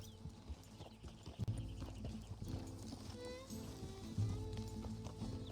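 Horse hooves clip-clop in a steady galloping rhythm while riding in Red Dead Redemption 2, close and clear over faint game music, with a brief whinny-like snort and no one talking.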